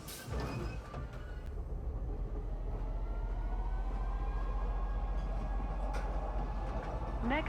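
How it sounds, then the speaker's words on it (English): A train ride in the video game Star Citizen, heading to the Teasa Spaceport at Lorville: a steady rolling rumble with faint rail clatter and a tonal whine, brief clicks at the start and a soft tone near the end. "we're going to take the train to the teaser spaceport"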